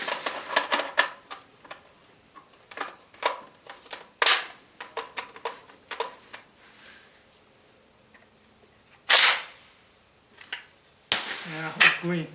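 Rifle shots from a Southern Tactical Cetme C classic fired outdoors with iron sights, a few sharp distant-sounding cracks spaced seconds apart amid clicks, handling noise and someone talking between them.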